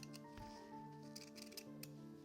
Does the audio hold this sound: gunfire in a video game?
no